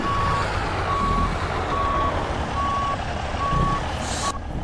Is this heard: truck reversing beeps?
yes